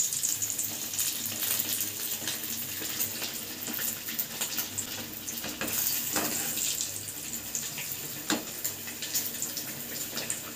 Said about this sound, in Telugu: సన్న మంట మీద పెట్టుకొని వేయించుకోవాలి చేప ముక్కలన్నిటినీ